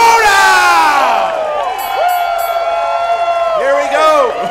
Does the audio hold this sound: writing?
no